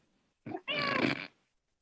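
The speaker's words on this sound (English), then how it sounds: "The cat's decided to join in." A cat meows indoors, a short chirp followed by a longer drawn-out meow, close and fairly clear with no talk over it.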